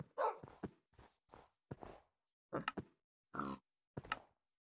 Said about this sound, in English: Two pigs and a wolf